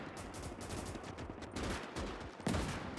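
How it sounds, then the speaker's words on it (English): Relentless rattling gunfire and booming grenade blasts in the World War II strategy game Gates of Hell, a dense battle din with a heavier explosion near the end. "There's almost like a grenade barrage going on right now."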